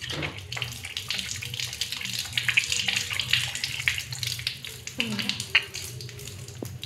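Tap water runs steadily onto a kitchen floor as it is washed, a continuous close hiss and splash that stays on through the stretch, with small clatters on top and a voice now and then underneath.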